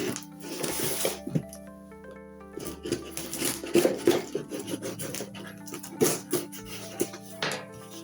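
Knife slicing open the packaging of an Exfil Zone gunstock kit: close scraping, rasping and crinkling with intermittent taps and rustles spread across the whole stretch.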